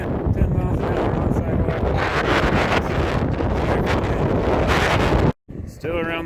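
Wind roars across the microphone while riding at about 10 miles an hour on a sidewalk around a pond, a loud continuous buffeting that cuts out abruptly near the end, followed by a brief faint voice.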